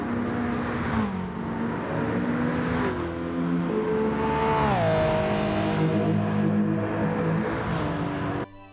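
A Maserati MC20 supercar in Gran Turismo 7 revs hard and steadily, its engine note climbing and dropping through gear changes, loud and continuous with no talk over it.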